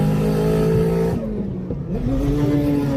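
Nissan S15 drift car engine revving loudly and close, its tone climbing and falling through a dip in the middle before building again into a steady high-rev drone.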